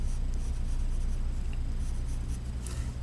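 Pencil sketching fingers onto a hand in a simple human figure drawing, a steady soft scratching of graphite on paper that runs continuously and close, with no talking.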